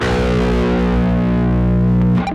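Guitar tuned way down sounds a single low B note with heavy distortion, a thick buzzing tone sustained for about two seconds before cutting off.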